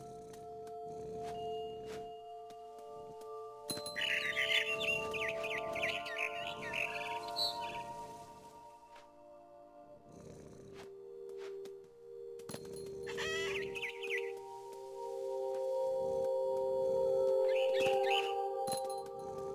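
Bird chirps and tweets in the video game What Remains of Edith Finch, bursts of bright calls coming in clusters over a steady tonal hum, with quiet gaps between the bursts.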